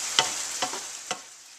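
Fried rice vegetables and cooking sauce sizzle steadily in a hot pan, close and loud, with a few sharp stirring scrapes breaking through the hiss.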